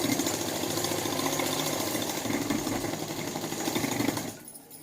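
An electric sewing machine runs steadily while stitching a seam on a suit, a continuous mechanical whir lasting several seconds before stopping abruptly at the end.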